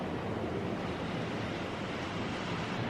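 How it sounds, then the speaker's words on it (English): Ocean surf on a Maui beach roars as a steady, loud, broadband wash with some wind buffeting the microphone, continuous throughout with no voices. "I have no clue if the ocean is too loud"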